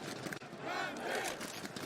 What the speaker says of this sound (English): Crowd rising for the players on the server.